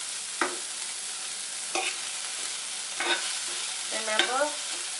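Onions and curry leaves frying over low flame in a pan for poha upma, a steady close sizzle with a few short scraping stirs of a spatula at intervals.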